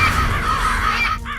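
Crows caw loudly and nearby in a series of harsh, rasping calls that overlap in quick succession, filling the scene with no talk.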